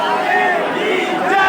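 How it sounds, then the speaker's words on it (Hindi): Dense crowd of devotees at Vrindavan's Holi festival chanting Banke Bihari ji ki jai, a loud, continuous massed roar of voices with overlapping chant tones, close and enveloping throughout. "बांके बिहारी जी की जय जयकार के नारे"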